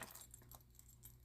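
A couple of keys jangling softly, a brief metallic rattle in short clusters while being handled.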